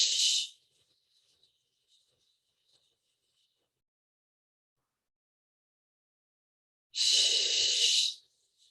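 Two long, breathy 'shh' exhalations during a calming breathing exercise, one at the start and another about six seconds later, each lasting around a second, close and fairly loud with near silence between them.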